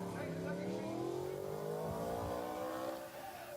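A British Superbike roars out onto the Snetterton track during qualifying, its engine note climbing steadily as it accelerates, loud and continuous with commentary running over it.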